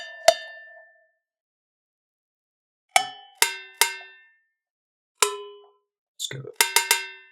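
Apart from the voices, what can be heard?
cowbell sound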